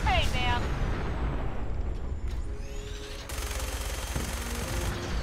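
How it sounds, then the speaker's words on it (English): A minigun mounted on a vertibird in Fallout 4 fires a dense, continuous rattling barrage with loud mechanical whirring, sustained over heavy background rumble. "I cannot resist blowing shit up in the vertibird. It just can't. You know, I have a minigun. I might as well use it."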